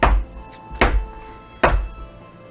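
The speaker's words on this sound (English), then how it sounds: "a loud thumping sound at the door as he stops midway through the threshold of his room" Three heavy, loud thumps on a door, evenly spaced about a second apart, each a booming knock with a short ring-out and quiet between.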